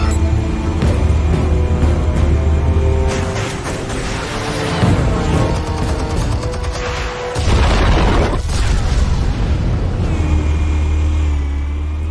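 Explosives detonate in the video game Batman: The Telltale Series, with loud, deep rumbling booms layered over dense game sound effects and music that stay intense throughout.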